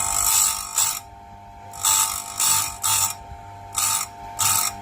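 Grinding wheel sharpening a chainsaw chain tooth in repeated short passes, each a loud, harsh whirring grind lasting under a second, separated by brief quieter gaps as the wheel lifts between strokes.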